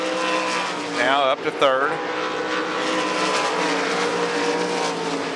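Dirt-track 305 sprint cars race around Devil's Bowl Speedway in Texas, their engines droning loud and steady with a brief wailing rev as one car passes close, while an announcer talks over the racing.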